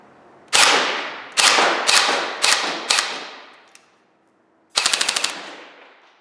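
An airsoft gun loaded with a hex mag fires five loud, sharp shots spaced evenly apart, then after a short silence lets off a rapid burst of about six shots close up.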